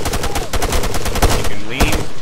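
Gunfire in the military shooter ArmA 3: a dense burst of rapid shots cracking in quick succession, loud and close, with a few heavier reports standing out.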